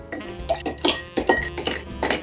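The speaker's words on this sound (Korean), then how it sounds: "다음은 얼음을 채워주고요" Ice cubes are dropped into a glass for a lime, maple syrup and soda highball, clinking sharply and brightly in a rapid close cluster of about a dozen knocks.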